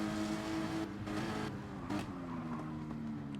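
Race cars in a Nürburgring racing video game, including a Nissan GT-R, roar loudly with sustained engine whine and shifting pitch as they pass, under no speech.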